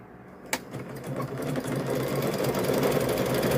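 A sewing machine stitches across a coiled rope for a rope bowl, starting with a sharp click and then a steady, close motor hum and rapid needle chatter that builds and holds.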